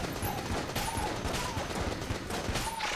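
Yari Launcher fire in Enter the Gungeon, rapid volleys of game gunshots in dense bursts with sharp repeated pops and occasional tonal effect chirps, continuous over the whole stretch.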